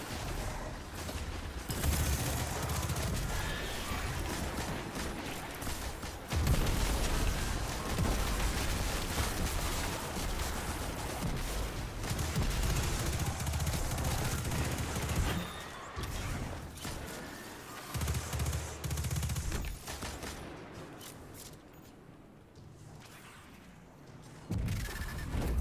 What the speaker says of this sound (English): This gun shreds when heavyweight is on.